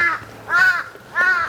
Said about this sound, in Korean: 까마귀.